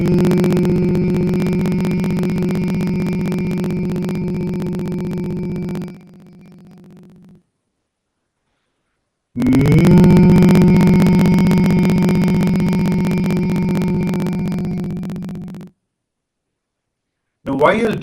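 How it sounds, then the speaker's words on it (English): A person hums deeply and intensely in a sustained low tone, holding one long steady hum for about six seconds, pausing briefly, then starting a second long hum that slowly fades. "take a deep breath, and then hum deeply and intensely without"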